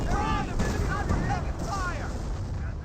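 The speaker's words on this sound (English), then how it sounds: "do got another incendiary mortar there, burning up some of these forces" Incendiary mortar fire in the strategy game Company of Heroes booms and rumbles in a continuous, loud barrage, with whistling tones above the blasts.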